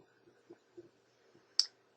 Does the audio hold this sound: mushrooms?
no